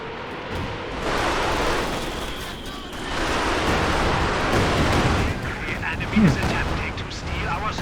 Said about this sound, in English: that was a devastating Werfer strike